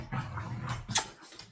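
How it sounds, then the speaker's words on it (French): Pet dogs playing indoors, giving short soft whimpers, grunts and a brief yelp, close and faint with small scuffling sounds. "Je suis désolée si vous entendez mes chiens en train de jouer."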